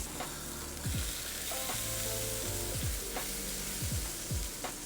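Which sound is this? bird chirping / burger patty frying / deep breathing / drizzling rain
burger patty frying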